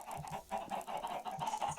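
A flock of many chickens in a video game, clucking in overlapping, repeated short calls at close range, with no voices.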